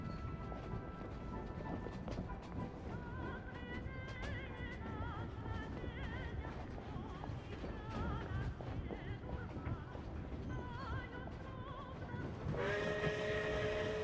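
A train crosses a railroad bridge over a canyon in Genshin Impact, with a quiet, continuous rolling rumble and whistle-like tones above it, and a brighter burst near the end.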